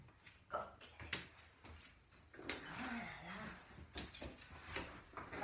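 A dog named Ella whimpers and whines in short, needy bursts during an indoor yoga session, the faint cries rising and falling around soft rustling and occasional knocks.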